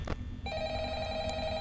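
A telephone rings in the game Five Nights at Freddy's, a steady electronic tone that starts abruptly after a brief thump and holds evenly at moderate volume.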